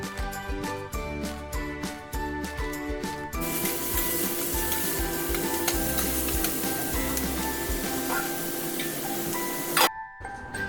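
Onion, carrot, cabbage and capsicum stir-frying for restaurant-style lollipop, a steady loud sizzle with scraping and stirring strokes, rhythmic at first and then continuous to the end, with no speech.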